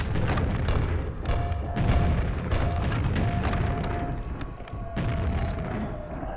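Grenades exploding in the game Quake, played on PC with Quakespasm: a dense run of loud, booming blasts and thuds with harsh rumbling noise and rapid repeated bursts, over a steady tone.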